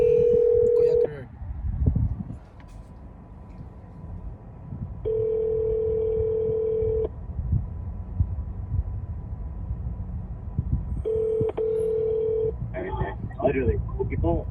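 Phone keypad tones and ringback as a mobile call is placed, steady beeps in separate bursts, with speech in between and toward the end.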